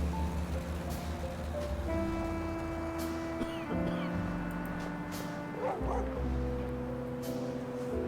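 A stray dog in the video game The Dark Rites of Arkham gives a few yips and barks under steady tonal game music and ambience.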